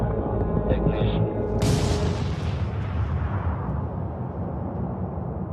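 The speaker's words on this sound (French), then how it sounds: "À 5h30, la détonation de la bombe dégage une énergie de 21 kilotonnes de TNT" Detonation of the Trinity plutonium implosion atomic bomb, a huge sustained roaring blast that swells suddenly to full force and then rumbles on as a dense, loud, low roar.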